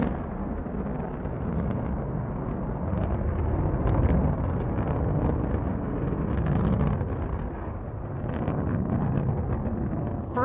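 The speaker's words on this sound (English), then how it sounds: "Beautiful liftoff from our launch site 1 in West Texas" Blue Origin New Shepard rocket lifting off from launch site 1 in West Texas: a steady, dense, broadband roar with rumbling low end, continuous and unbroken, heard from a distance without voices.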